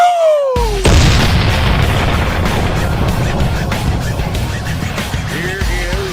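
A loud cannon-like boom bursts in after a brief silence, followed by a dense, rumbling roar that sustains for several seconds with crackling texture, as a podcast intro sound effect.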